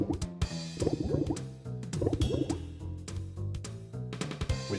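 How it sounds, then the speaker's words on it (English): Watery bubbling and plopping as a bucket fills in the video game Breath of Fire 3, a steady run of small drips and gurgles over a repeating looped background. "Keep moving it until you hear the bucket filling up. Alright, I hear a bubbling noise."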